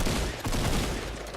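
Rapid automatic gunfire in Fortnite, a dense fusillade of loud overlapping shots that barely lets up, heard alone without talk over it.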